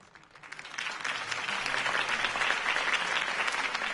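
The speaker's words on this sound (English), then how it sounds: "If only Mr. Wayne, my campaign's largest backer, could have heard that applause" Crowd applause after Harvey Dent's campaign speech in a Batman video game, clapping that builds from a few scattered hands into a full, sustained roar of many people lasting several seconds.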